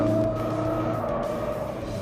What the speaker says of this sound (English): This vehicle is very easy to drift.